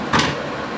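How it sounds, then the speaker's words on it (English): A frameless glass shower door swings open with a single brief, close whoosh and soft knock, followed by quiet room tone. "go ahead and open the door out of the way"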